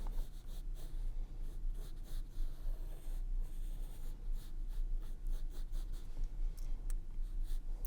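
A pencil or marker draws a bean shape on paper, giving repeated soft scratching strokes up close that come in short bursts against a quiet background, with no talking.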